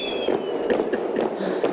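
Artillery and mortar fire crackles in the Toy Soldiers video game as a rapid string of sharp popping bursts over a steady background rumble, close and moderately loud, with no talk.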